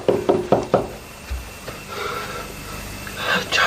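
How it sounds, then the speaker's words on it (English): A series of firm knocks raps on a wooden door, four or five quick blows close together, followed by breathy gasps and low sounds of movement. "I had someone knocking at the door"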